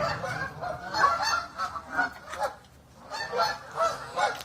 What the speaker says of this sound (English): I know these are geese, but geese and duck is the same goddamn thing.